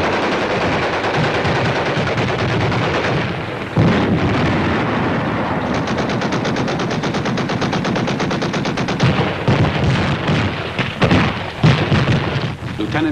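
Battle noise from inside a tank: rapid bursts of machine-gun fire rattle loudly alongside heavy booming blasts and explosions, dense and continuous throughout with a few sharper impacts near the end.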